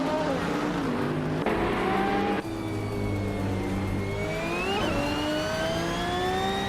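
Race cars in a racing video game roar and rev continuously at close range, engine pitch rising and shifting as cars jostle for position, with a brief tire squeal near the end.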